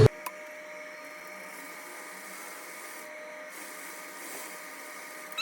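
A sewing machine stitches a straight one-inch seam on a one-shoulder jumpshort, giving a steady, quiet mechanical whirr that runs continuously from a sharp start to the end with no talking.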